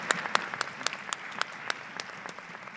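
Audience clapping at an intermediate school winter orchestra concert, a steady patter of many hands with sharp individual claps standing out, moderately close and without talk.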